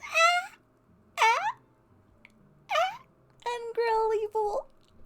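A cat meows several times, each call a rising-then-falling cry with short gaps between, the last ones stretched and wavering, close and clear in an otherwise quiet room.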